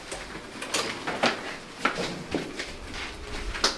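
A restaurant door is pulled open, with a series of soft knocks, clunks and scrapes of the door and handle over a steady indoor hum, fairly close, with no talk.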